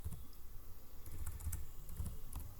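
Rapid typing on a computer keyboard, with a quick run of clicky keystrokes in irregular bursts, close and fairly quiet, and no voice.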